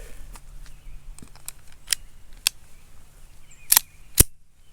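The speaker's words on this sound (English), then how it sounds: "Alright, first 6 rounds of the Hornady Critical Defense." A Taurus Spectrum .380 ACP pistol fires Hornady Critical Defense rounds outdoors, heard as a series of sharp, widely spaced cracks, mostly faint and distant, with the last two shots louder and closer.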